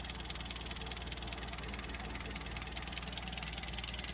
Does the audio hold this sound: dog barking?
no